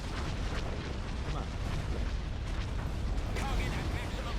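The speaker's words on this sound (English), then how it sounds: "All guns, fire." Starship guns firing in a space battle in the Star Wars strategy game Empire at War: Thrawn's Revenge, a dense continuous barrage of booming blasts and bursts layered over rumbling background, with a voice heard faintly in the mix.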